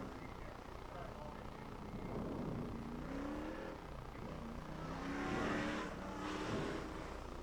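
Race cars at a speedway track sweep past at a distance, engines rising and falling with faint tire noise while a commentator talks over the scene.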